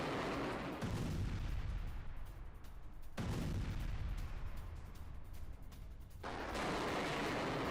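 Sustained roaring rush of a missile launch by Iran's IRGC during a war exercise, a long loud blast of noise with surging waves and brief dips, far-reaching and continuous.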